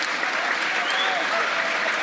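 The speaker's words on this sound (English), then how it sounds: "listen to that crowd" A crowd at a straight pool match, the 1992 14.1 U.S. Open, applauds steadily as a dense, unbroken wash of clapping.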